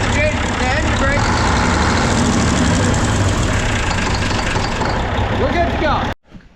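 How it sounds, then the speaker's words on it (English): A truck engine with a working engine brake runs loud and heavy, a dense rumbling roar that holds steady for several seconds before cutting off sharply. "when it's running down a hill and you hit the engine brake"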